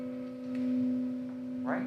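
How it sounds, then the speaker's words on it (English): A gong struck gently as a warning rings with a clear, sustained tone that hums on steadily, moderately loud, with a brief soft noise near the end. "I have the gong."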